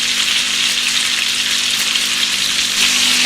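A beef top sirloin steak fries in a pan with butter, giving a dense, continuous close-up sizzle with crackling spatter and no pauses.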